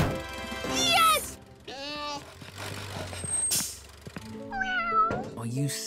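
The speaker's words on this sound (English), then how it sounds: "Oh, you silly cat, Pilchard." A cartoon cat meows repeatedly in drawn-out, rising and falling cries, loud and close, with short pauses between calls and some low rumbling in the background.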